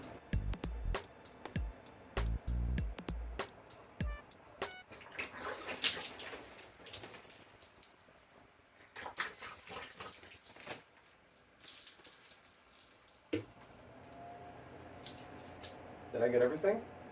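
A sink tap runs in uneven bursts while someone rinses their face, water splashing close by, broken by clicks and pauses, with a voice talking in between.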